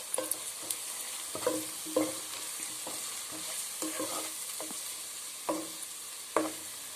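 Onions frying and being stirred in a pan for egg bhurji, with a steady sizzle and repeated scraping clatters of a spoon against the pan, close and clear with no talking.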